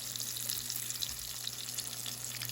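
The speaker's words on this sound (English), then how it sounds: "Give each salmon croquette its space so it can fry on its own." Salmon croquettes frying in a pan, spaced apart so none are crowded: a steady, close sizzle of hot oil with fine crackling throughout and no talking.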